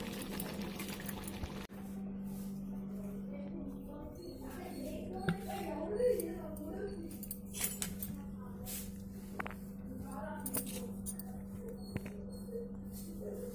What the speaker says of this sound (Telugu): పులుసు బాగా ఉడికింది కదండి, బాగా దగ్గరకు వచ్చింది కదా.